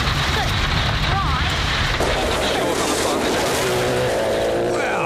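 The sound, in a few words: rally car driving on a gravel stage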